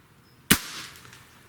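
A single sharp shot from an AEA Challenger PRO LB Gen-2 air rifle, one crisp close crack followed by a short fading tail in an otherwise quiet setting.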